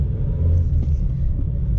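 Steady low rumble of a car being driven, heard from inside the cabin, continuous and fairly loud with no voices.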